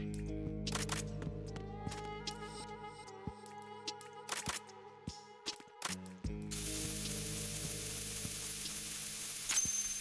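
A coolant spray trap going off in a stealth video game starring Raiden, a loud hissing spray bursting in around six seconds and rushing on steadily over a bed of clicking, ratcheting game mechanisms and music.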